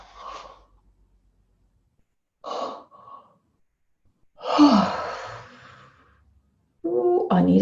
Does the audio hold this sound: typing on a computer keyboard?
no